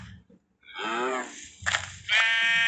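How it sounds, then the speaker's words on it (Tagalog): A Minecraft sheep gives a few short bleats, close and clear, separated by brief pauses. "May tupa na din tayo ulit."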